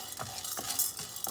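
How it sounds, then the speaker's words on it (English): Chana dal fried in a pan rattles and hisses as it is stirred, with rhythmic scrapes and clicks of the spoon about every third of a second over a steady sizzle, close by. "Now I'm going to fry 1/4 cup of Chana Dal."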